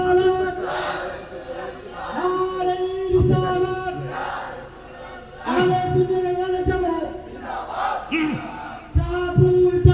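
A large crowd at a religious gathering shouts back together after the Nara-e-Takbir call. Loud, repeated bellowing chants rise and fall in waves, with a leading voice mixed in.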